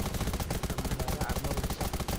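Gunfire in the Undawn video game, a rapid, evenly spaced stream of shots rattling continuously for a couple of seconds at fairly low volume.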